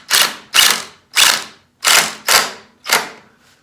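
A pocket screw is driven into a live edge maple console table leg in six short, loud, evenly spaced ratcheting bursts, close up, the last one fading quickly, with no voices.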